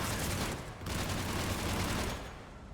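Rapid bursts of gunfire from Mass Effect 3 Legendary Edition, dense crackling rounds fired through walls in a near continuous stream with a brief pause, loud and close, no talk.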